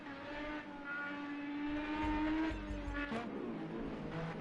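A single race car on a circuit in an Indy GP racing video game, its engine note holding a steady whine, then dropping in pitch as it passes close by, with no voices.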